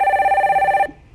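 A telephone rings for an incoming caller on a live stock-market phone-in radio show: one loud, clear electronic ring burst lasting under a second, then cut off into near silence.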